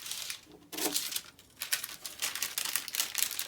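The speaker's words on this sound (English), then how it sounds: "cut along your outer line" Scissors cutting a paper collar pattern along its outer line, a close series of crisp rustling snips and crinkles in irregular bursts, with no talk.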